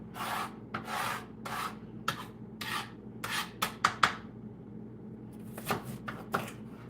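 A knife cuts and scrapes around the stems of peppers on a cutting board, a series of close, short rasping strokes in an uneven rhythm over a faint background hum.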